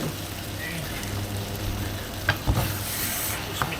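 Chicken dish being stirred and mixed in a sizzling pan, steady frying hiss with scraping and a few utensil knocks against the pan, close and alone.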